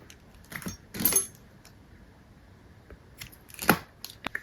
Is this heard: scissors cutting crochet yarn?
yes